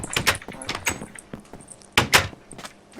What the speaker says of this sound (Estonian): Miks uks lambist lahti läks lihtsalt?